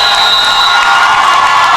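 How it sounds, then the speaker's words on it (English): Mobridge-Pollock fans roar at a SoDak 16 high school volleyball match against Belle Fourche, a loud, sustained crowd cheer filling the gym without a break. "this Mobridge-Pollock fan base right now is getting very loud"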